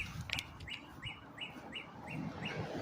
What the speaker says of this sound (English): I don't know if you heard the birds, but the birds are chirping.